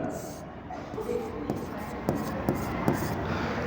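Pen writing figures on paper while solving partnership final accounts, soft scratchy strokes with a few sharper taps, heard close and faint beneath someone talking.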